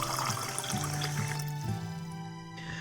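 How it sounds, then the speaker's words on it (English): Water pours steadily into a cup in a visual novel game, a continuous bright splashing trickle with a rising pitch as the cup fills, then stopping abruptly near the end. "I quickly fill a cup with water and present it to her."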